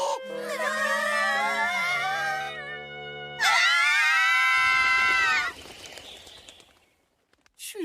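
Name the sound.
anime girl screaming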